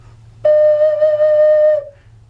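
A 12-hole ocarina plays a single sustained note D, a pure, steady flute-like tone held for about a second and a half, close and clear with no voices.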